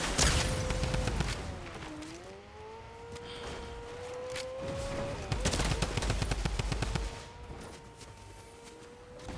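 A drum gun firing in Fortnite, rapid bursts of loud automatic shots crackling over a wavering siren-like engine or ambient tone, repeated volleys close by.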